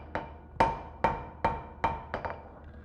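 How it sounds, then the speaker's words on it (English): A blacksmith planishes metal with the flat face of a hammer, striking about eight sharp, ringing metallic blows at a steady pace, the last few coming quicker, close and clear. "So this is all the flat side of my hammer. Just trying to flatten things out,"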